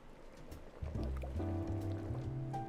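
Water pours and fills a vessel in the Coffee Caravan video game, starting with a splash then settling into a steady, rising trickle that continues to the end.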